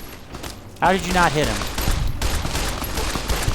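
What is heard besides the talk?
gunfire in a video game (Fallout: New Vegas)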